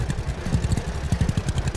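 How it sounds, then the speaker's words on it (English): A fast tractor in the farming video game Farmer's Dynasty chugs along while ploughing a field, its engine giving a quick, rhythmic, moderately loud thumping pulse with no talk. "And quite a fast tractor."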